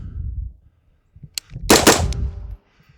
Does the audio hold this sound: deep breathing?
no